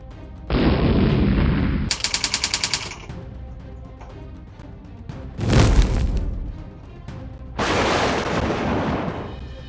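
Sound effects of artillery fire and gunfire: a sustained roaring barrage, a rapid burst of machine-gun shots, then a heavy booming blast and another long rumbling salvo, loud and close, with no talking.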